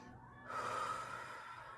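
A person breathes through a yoga flow: a quiet stretch, then a strong, drawn-out inhale or exhale that fades gradually, close to the microphone with no talking.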